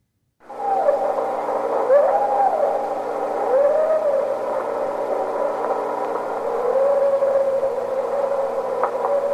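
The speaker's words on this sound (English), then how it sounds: "So these are the Snohomish sounds, the woo sounds." Recorded Snohomish 'woo' calls attributed to Bigfoot: several drawn-out, rising and falling hooting tones over a steady hiss and hum, moderately loud and continuous.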